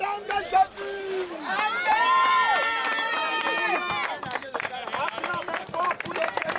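A church crowd at a baptism service cheering and shouting loudly for the Lord, a dense, sustained roar of many voices with overlapping calls and tonal cries throughout.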